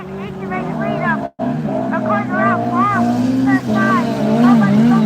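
Race cars run in Class 4 final qualifying at Sturton, with just two cars on track. A steady engine drone sits beneath continuous commentary from someone talking over it.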